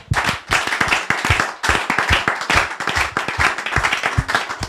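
A church congregation clapping in rhythm while praising the Lord, a steady fast beat of many hands, close and lively with no pauses.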